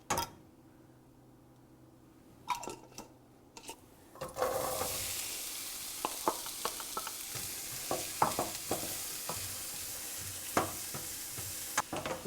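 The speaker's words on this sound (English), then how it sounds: "now we will caramelize our onions over medium-high heat" Onions hit a tablespoon of hot oil in a skillet over medium-high heat and burst into a steady sizzle after a few quiet clicks, while scattered scrapes and knocks of stirring cut through the frying.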